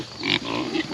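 Piglets grunt and squeal in a brief, close burst, one higher squeak standing out over a steady farmyard background.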